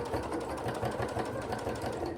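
A sewing machine stitches fabric advent calendar pockets with a steady, fast mechanical chatter that runs evenly throughout at close range.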